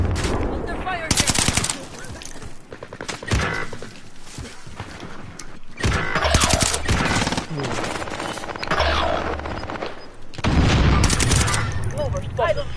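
Gunfire rings out in a Call of Duty Warzone match on PS4: dense bursts of automatic fire and single shots come loud and close, mixed with in-game voice callouts.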